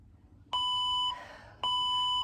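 A workout interval timer sounds two sharp electronic beep-tones, each a clear ringing chime held about half a second, spaced about a second apart in a quiet room; a three-ding bell is stated.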